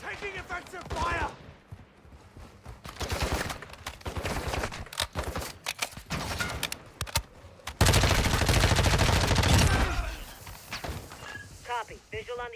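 Enemy gunfire in the video game Call of Duty DMZ, repeated bursts of automatic weapon fire and single shots crackling throughout, loud and dense, with voices talking between volleys.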